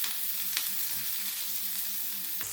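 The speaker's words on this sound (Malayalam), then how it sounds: "ഇത് നന്നായിട്ടൊന്ന് മൂപ്പിച്ചെടുക്കാം" Shallots, green chili and curry leaves fry in hot oil in a Kerala-style squid thoran, giving a steady close sizzle and crackle with a couple of brief stirring scrapes.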